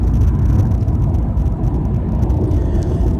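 Car driving through vast sugarcane fields, a steady loud low engine and road rumble from inside the vehicle, constant with no voices.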